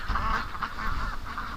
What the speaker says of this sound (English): Something has got the ducks totally freaked out.